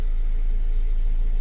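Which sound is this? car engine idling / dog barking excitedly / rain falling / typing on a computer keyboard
car engine idling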